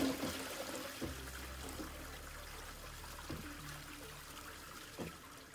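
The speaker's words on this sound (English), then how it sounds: "Can actually flush it." Toilet flushing in a factory-building video game, a quiet trickling and gurgling of water with a few soft clunks, faint and alone with no talk.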